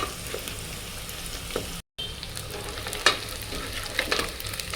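Ingredients for biryani kushka fry in a pressure cooker until golden brown, a continuous sizzle broken by a brief gap and stirring scrapes.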